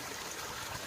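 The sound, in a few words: water running as a koi pond is topped up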